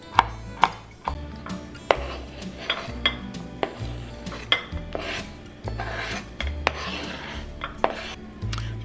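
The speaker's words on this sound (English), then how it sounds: "Now using a kitchen shear, go ahead and chop your green onions. Chop your pickles." Kitchen shears snipping through green onions and pickles, a run of sharp, close cuts in an uneven rhythm with a steady scraping and clatter of dishware between them, no talk.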